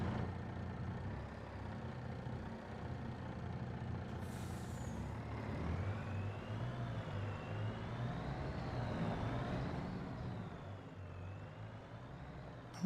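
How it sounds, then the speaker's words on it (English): A truck with a combine harvester attached in Farming Simulator 2025 rumbles steadily at close range, a low engine drone with an air brake hiss and a rising mechanical whine partway through, no voices. "let's go get this truck ready with our combine here"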